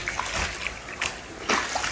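Water splashes and sloshes into an indoor koi pond liner, a close, continuous watery rush with uneven spattering bursts and no talking.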